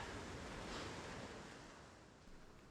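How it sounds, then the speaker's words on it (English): Small sea waves wash onto the shore at Uranui in Taranaki during a kayak competition day, a steady broad hiss of surf with light wind buffeting the microphone, continuous and fairly soft, with no voices. "The waves were small and the wind was fairly light."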